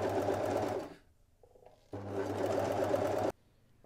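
Sewing machine overcasting seam allowances on a garment sleeve: two loud, close bursts of fast, buzzing stitching separated by a brief pause with a small click.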